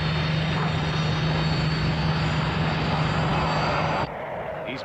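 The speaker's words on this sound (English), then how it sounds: "we have diverted these fighters and they are about to overfly the outskirts of this airfield" Several fighter aircraft overfly the outskirts of an airfield, a loud, steady engine roar with a droning hum that holds for about four seconds before dropping off abruptly to a quieter rumble.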